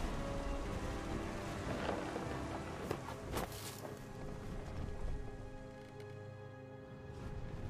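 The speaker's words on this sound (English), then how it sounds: "The thunder sounded much too close and full of angry power." In the video game What Remains of Edith Finch, steady rain hisses, and a low rumble of thunder swells briefly midway. The storm sounds faint and distant.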